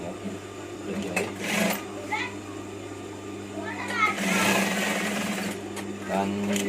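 Sewing machine stitching a batik combination shirt, a steady mechanical whir running through most of the clip with brief pauses, while a voice and other household sounds come and go in the background.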